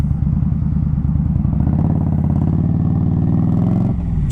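An Indian Scout Rogue motorcycle running steadily on the road, a loud continuous engine drone with harmonic rumble that rises slightly in pitch mid-ride, then drops as the throttle eases near the end; no talking.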